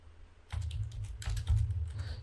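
Keys on a computer keyboard clatter in quick bursts of typing, close and fairly loud, with a short pause between two runs of tapping and no voice.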